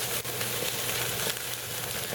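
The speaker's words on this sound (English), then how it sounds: "We just want to sear the outside of that for a little bit, right in the direct flame" A steak sears over direct flame on a Weber grill, giving a steady, dense, close sizzle that stays loud and even throughout, with one brief dip near the start.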